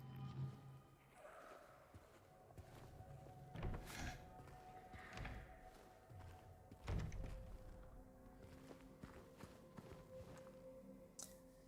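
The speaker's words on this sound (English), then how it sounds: "that's not the drawer I thought I was going to open when I pushed that" Footsteps and hollow wooden thunks fill a dim building in the Silent Hill 2 Remake, with several knocks and a drawer sliding open as the player searches, all heard close against a low ambient hum.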